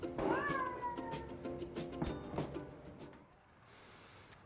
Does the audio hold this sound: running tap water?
no